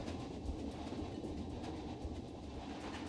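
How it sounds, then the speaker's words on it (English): A train in Planet Coaster 2 passes over a bridge: a continuous low rumble with faint rhythmic clatter, steady and moderately near, unbroken for the whole three seconds. "And then we have this train. There it goes."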